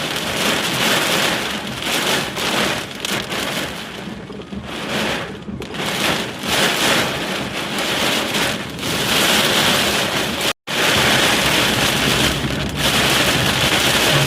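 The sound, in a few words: heavy storm with pouring rain in Punjab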